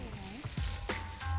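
Chopped onion, ginger and garlic frying in oil in a home kitchen, a steady close sizzle running under intermittent voices and clatter.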